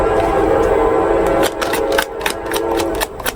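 A passing train rumbles steadily nearby, then a series of sharp, rhythmic clacks or horn-like bursts sound in the second half, loud and close, with no speech.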